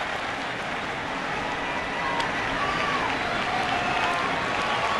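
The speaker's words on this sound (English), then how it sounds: "More rain here in Phoenix" Rain falling steadily on a baseball stadium in Phoenix during Game 7 of the 2001 World Series, a dense even hiss filling the whole span with a faint crowd murmur underneath.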